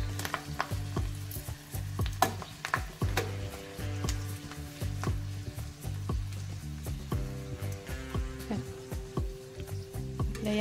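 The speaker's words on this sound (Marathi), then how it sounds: "या पण मिरच्या तळून झालेल्या आहेत" Green chilies fry in hot oil with a steady, crackling sizzle, dotted with sharp pops and the clinks of a utensil stirring the pan, close and continuous throughout with no talking.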